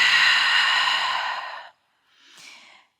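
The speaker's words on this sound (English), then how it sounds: "Big breath out." One long, loud breath out through the mouth lasts over a second and a half, then a softer short exhale follows after a pause, both close and alone.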